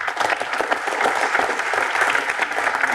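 Audience applause for a theatre cast and team at an interview event, a dense, steady clapping that fills the whole moment without pause.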